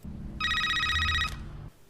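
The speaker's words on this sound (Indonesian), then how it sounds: "Ray pun harus terbangun karena suara telepon" A telephone rings in a mafia film scene, one continuous bright electronic trill of about a second over a low background rumble, with no voices.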